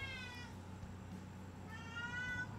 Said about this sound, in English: Cat's brought a toy for my wife.